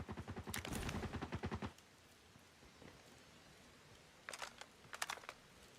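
Rapid bursts of gunfire in a Call of Duty Mobile match, fired through walls: a loud sustained volley of shots, then a pause and two shorter clusters of fire a few seconds later.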